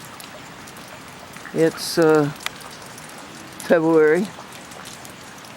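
Steady patter of rain at dawn on a February morning, a soft continuous hiss filling the background while someone speaks a few short phrases over it.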